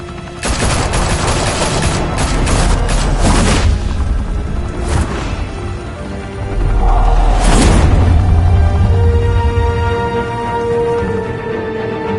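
Loud gunfire in the game Batman Telltale, episode 1, from a close volley of rapid overlapping shots and booms. It thins into a few scattered bursts, then a second heavy blast with a rumbling tail.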